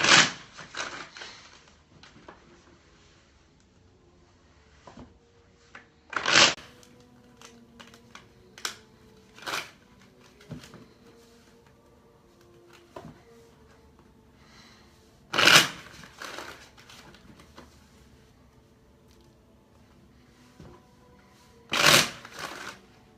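Tarot cards being shuffled to pull a single card, sharp riffling bursts recurring every few seconds with softer shuffling and card handling between them, close and clear, with no voice.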